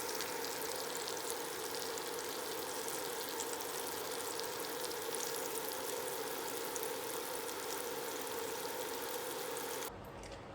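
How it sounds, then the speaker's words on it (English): Beef short ribs browning in a pot, a steady dense sizzle and crackle of searing meat running evenly and fairly quietly throughout, then cutting off abruptly near the end. "here's the beef ribs, just sizzling away in the pot"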